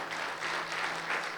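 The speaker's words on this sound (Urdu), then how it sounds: "آئیے زوردار تالیاں خداوند کے لیے بجائیے." A church congregation claps and applauds loudly in praise, a dense, sustained wash of hands clapping throughout with no voices standing out.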